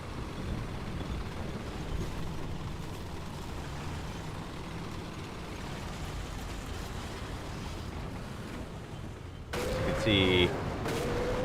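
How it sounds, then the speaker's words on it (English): Enemy counter-fire in the War Thunder video game, aimed at a Panzerwerfer 42 rocket vehicle: a continuous rumbling roar of distant gunfire and engine noise, rising louder near the end. "I get some counter-fire back here pretty quickly"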